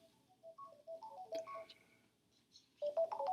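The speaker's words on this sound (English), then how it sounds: "I was hoping I wouldn't get a phone call during this." A phone rings with an incoming call, a quiet melodic ringtone of short tonal notes with a brighter burst near the end, faint and alone.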